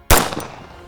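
A single sharp gunshot from a 1911 pistol fired at a target 106 yards away, loud and close, with a short echoing decay trailing off and no talking.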